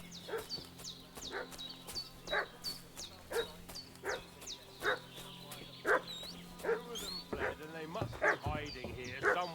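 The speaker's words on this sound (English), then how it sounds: "What's that dog making such a fuss about?" A dog in the Kingdom Come: Deliverance video game barks and yips repeatedly in an agitated rhythm, mid-distance, over a steady game ambience, with a few whimpering squeals near the end and no talk.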